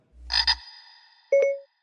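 A frog croaks in two short bursts, then gives a single louder, tonal croak after a brief pause, close and clear with no talking.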